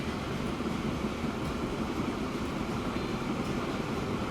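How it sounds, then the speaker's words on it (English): A logging train in Transport Fever 2 rolls past as a steady, dense rumble of wheels and wagons, holding at an even loudness throughout with no voices. "Oh, we got the other logging train coming."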